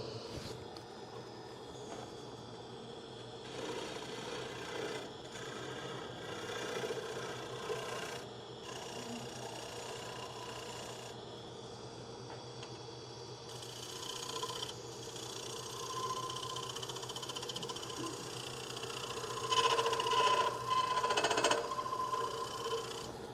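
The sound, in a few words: turning tool scraping a wooden bowl on a lathe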